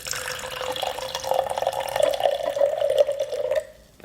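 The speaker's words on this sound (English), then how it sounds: "I'm just going to do a little pour." Cherry tart juice poured into a glass, a steady close trickle of liquid lasting several seconds with a rising tone as the glass fills, then stopping abruptly near the end.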